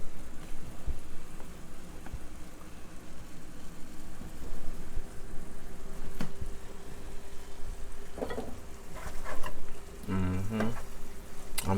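Lamb chops fry in a pan with a constant hissing sizzle, joined near the end by a few clattering knocks.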